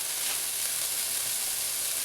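Lean ground beef frying with garlic and onions in a pan, a steady close sizzle and hiss with no gaps or voices.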